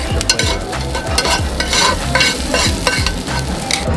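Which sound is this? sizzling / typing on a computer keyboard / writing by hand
sizzling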